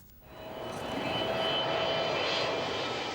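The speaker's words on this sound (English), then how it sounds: "Flying in over the construction site, this is the biggest plane that currently lands at Birmingham." A large jet airliner roars in on approach to land at Birmingham Airport, passing over a construction site, its engine noise swelling from quiet to a loud sustained rush with a faint whine.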